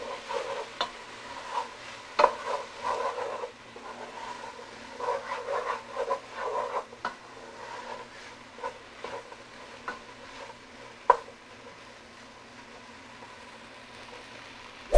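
Chopped leeks cooking down in a pan for white bean soup give a steady close sizzle and crackle, with occasional stirring clatter and a few sharper taps, and no talk over it.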